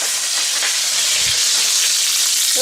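Lamb shanks sear in hot oil in a pan, giving a loud, steady, close sizzle with a dense hiss and no pauses.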